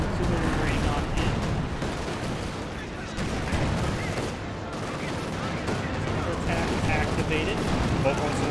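Dense artillery and gunfire from the World War II strategy game Company of Heroes 2 rumble and crack continuously in a busy battle, with a caster talking throughout.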